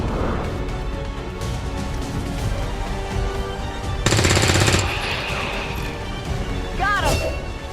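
Rapid automatic gunfire bursts out loudly in XCOM 2 War of the Chosen for under a second, set among other game effects, crashes and a short whooshing sweep near the end.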